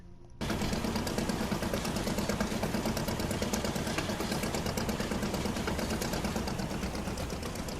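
A fishing boat engine in the game Fishing: Barents Sea, a steady mid-pitched throbbing drone that kicks in abruptly after a brief quiet start and runs continuously, loud and close.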